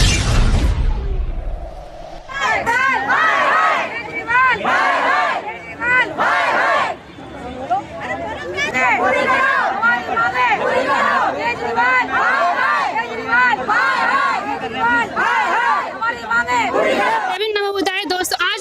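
A large, loud crowd of protesting hospital staff chants and shouts continuously outside GTB Hospital, with dense overlapping voices and rhythmic slogan bursts throughout, the noise dropping briefly only once.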